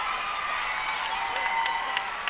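Crowd at a college gymnastics meet between Utah State and BYU cheers and applauds a floor routine, a steady dense roar of clapping and shouting with no pauses.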